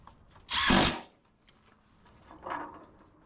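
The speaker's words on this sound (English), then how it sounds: "Screw in our J trim." A power drill drives a screw through J trim for a soffit install, with one loud half-second whir up close, then a softer, shorter burst a moment later.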